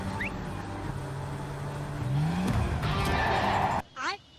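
A Lamborghini in the Free Fire game roars loud as the engine surges and rises in pitch while the car boosts away, then cuts off suddenly. A voice talks over it.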